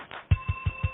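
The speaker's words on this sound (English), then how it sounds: "Somebody please mute your mic. I think somebody put the phone on hold." Telephone hold tone leaking through an unmuted conference call line, a short run of evenly spaced low pulses, four in under a second, over a thin steady tone.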